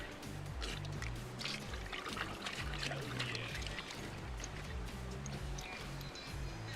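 Splashing, lapping water from a new water system in an Unreal Engine game, heard close and steady with continuous liquid wash and dripping over a low rumbling bed throughout.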